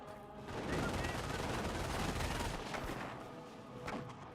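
Rapid gunfire bursts rattle through a Company of Heroes battle, a dense crackling volley with scattered sharp shots that thins out toward the end.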